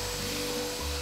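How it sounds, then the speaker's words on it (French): Loud, steady whine and airflow of a household vacuum cleaner running close by indoors, a constant droning hiss with no break or voices over the brief stretch. "Dolores, t'es vraiment obligée de passer l'aspirateur maintenant?"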